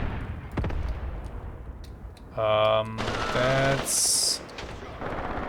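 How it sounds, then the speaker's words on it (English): Infantry gunfire in the tactical war game Graviteam Tactics: scattered sharp shots, then steady droning in-game tones, with someone speaking over the battle. "Okay, infantry shooting."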